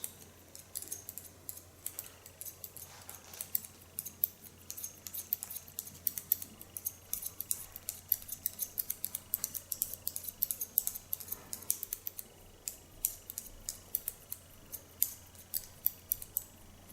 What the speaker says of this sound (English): So it's a wonderful soft slicing scissor with wonderful sharp knives.